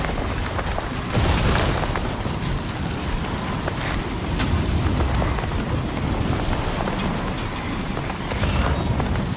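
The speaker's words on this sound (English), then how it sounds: "Storm's coming through." Heavy thunderstorm rain in the video game Death Stranding 2 pours steadily and loudly throughout, with low rumbling booms of thunder rolling underneath and no speech.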